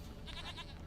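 A goat bleats in The Witcher 3: Wild Hunt, a single wavering cry rising over a steady bed of low game ambience at moderate distance.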